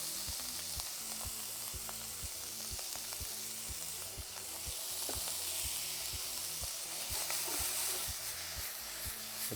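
Chopped meat roasts with garlic, rosemary, sage, salt and pepper in a hot pan, giving a steady close sizzle and crackle with occasional stirring scrapes and faint rhythmic tapping underneath.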